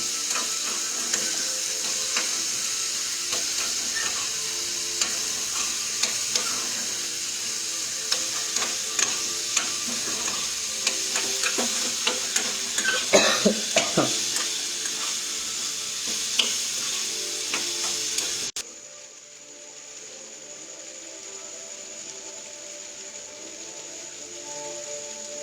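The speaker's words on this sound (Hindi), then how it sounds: "अब इसे चलाना पड़ता है" Prasad being stirred as it fries in a pan, a continuous close sizzle broken by frequent scraping and clicking strokes of the spoon, ending after about eighteen seconds in a quieter, steadier hiss; no voices.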